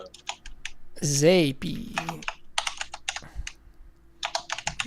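Bursts of quick tapping on a computer keyboard come in short clusters, close and crisp, while a person talks and drawls a word over the keystrokes.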